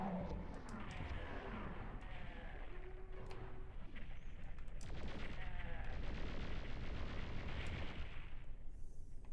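Rocket launcher fire in the PlayStation port of Doom II, booming blasts and explosions over a dense, continuous game din, loud and rumbling.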